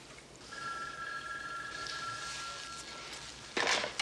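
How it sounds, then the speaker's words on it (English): A telephone rings in a quiet room: an electronic bell tone sustains for about three seconds at moderate volume, and a short burst of noise follows. "I'd keep my eye on that phone. Because in a few seconds, it's gonna ring"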